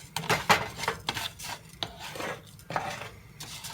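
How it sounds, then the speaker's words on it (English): Rice browning in a pan over high heat being stirred with repeated scraping and rasping strokes in an uneven rhythm, close and moderately loud, with no talking. "make sure we keep this rice moving. We don't want it to burn."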